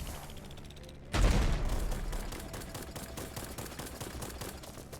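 Video game gunfire: one heavy blast, then a steady rattle of rapid shots trailing off at moderate volume.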